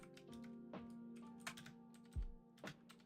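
Fingers type on a computer keyboard in a soft, close run of irregular key clicks over a faint steady hum, with a couple of slightly heavier taps.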